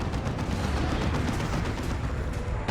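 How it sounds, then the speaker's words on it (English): Rapid, dense artillery barrage from a Manticore rocket platform in the Dawn of War 2 real-time strategy game, a steady loud rumble of overlapping blasts and crackles throughout with no pauses. "Manticore firing on the VP."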